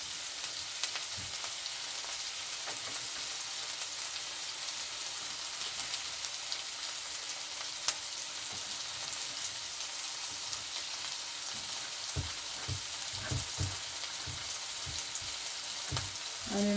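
Onion, tomatoes and garlic frying in a pan give a steady, soft crackling sizzle with scattered pops and a few louder stirring clatters toward the end, no talking.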